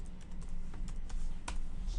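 Keystrokes tapping on a computer keyboard while a place name goes into a website search bar, a quick, irregular run of light clicks at moderate loudness, with no talking.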